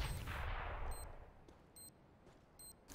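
Sharp gunshots crack out several times in Counter-Strike: Global Offensive against a noisy, rumbling background, spaced irregularly with short electronic tones between them.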